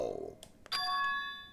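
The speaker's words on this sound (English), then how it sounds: "That bell just now." A bell chime from the Danganronpa 2 video game rings out after a few soft knocks, its bright ringing tones sustaining and slowly fading, with faint talk beforehand.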